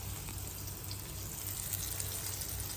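Food crisps up as it fries in a pan at home, giving a steady, soft, even sizzle with fine crackle throughout and no talk over it.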